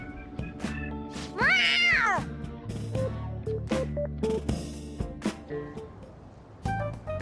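A cat meows several times in the video game Persona 5 Royal, one long rising and falling meow followed by shorter calls, mixed with game sound effects and music.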